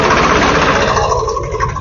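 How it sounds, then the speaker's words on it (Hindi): Poclain excavators hauling soil at a hillside digging site, heard as a loud, steady engine drone that stays even throughout and then eases off slightly toward the end. "और ये पोकलैंड मशीनें हैं, लगातार यहाँ से मिट्टी ले जाई जा रही है।"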